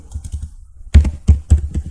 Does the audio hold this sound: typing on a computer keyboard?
yes